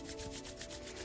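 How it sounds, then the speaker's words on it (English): Palms rubbing briskly together in a quiet yoga session, a steady close swishing friction with repeated back-and-forth strokes and no talk. "So rub your hands together again."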